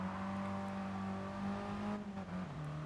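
Race car engines in a racing video game hold a steady, close droning tone, pitch dipping slightly near the end as cars jostle in tight racing.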